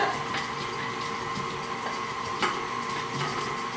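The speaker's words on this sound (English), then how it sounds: "I'm going to start my blender." Electric stand mixer creaming pecan tassie dough, a steady, even whir that holds throughout at moderate level with faint clicks and bumps over the drone.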